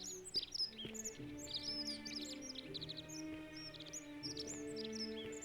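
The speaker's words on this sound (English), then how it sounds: "I like the bird ambiance." Bird ambience in the video game The Forgotten City: several birds chirp and trill in quick, bright bursts over a soft, steady outdoor hum, with calls overlapping and recurring throughout.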